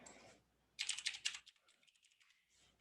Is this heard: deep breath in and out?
no